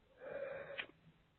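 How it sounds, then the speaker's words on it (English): A person yawning, a single drawn-out breathy exhale with a voiced tonal hum rising then fading, short and fairly quiet, close to the microphone. "I'm yawning already"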